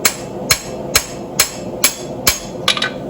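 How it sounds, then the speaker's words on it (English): A blacksmith planishes hot steel with a fuller hammer, striking sharp, ringing blows at a steady pace of about two per second, loud and close, ending with a quick double tap. "you can lightly planish now and take those marks out if that's important to you"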